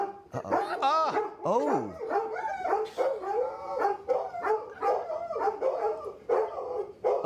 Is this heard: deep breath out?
no